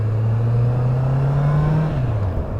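Honda CB650R motorcycle in its A2 35 kW version, engine droning steadily at a low pitch under load, holding loud and close before the revs drop away near the end.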